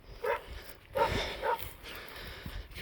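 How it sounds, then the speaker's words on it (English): Somebody's dog barks outdoors in open fields, three moderately loud barks in quick succession at medium distance, then quieter rustling and faint background noise. "Somebody's dog is barking."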